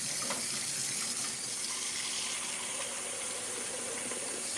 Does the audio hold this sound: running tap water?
yes